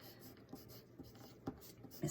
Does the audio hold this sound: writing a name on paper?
yes